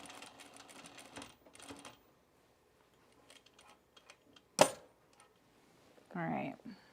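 A domestic sewing machine stitching a small jacket piece runs in a brief close burst near the end, after quiet handling noises and a sharp click.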